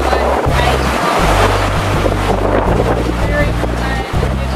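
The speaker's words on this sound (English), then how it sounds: "But some of these waves just surfing down" Ocean waves rushing past a sailboat under sail in about 25 knots of wind, a loud continuous wash of water with heavy wind buffeting the microphone and a low rumble throughout.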